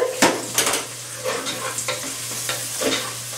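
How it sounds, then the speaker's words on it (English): Minced garlic sizzles and crackles in a hot frying pan, with bursts of stirring scrapes recurring every half second or so, close and fairly loud, with no voices. "Once that garlic hits the pan"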